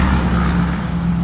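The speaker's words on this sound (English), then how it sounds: "As the truck goes by" A truck passing on a highway, its steady low engine drone and road rumble loud and close, holding evenly throughout without any talk.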